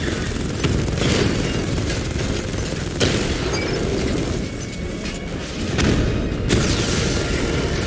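A drone being destroyed by Batman in Batman Arkham Knight: dense, loud booms and gunfire-like bursts rolling continuously, with sharp impacts standing out amid the din.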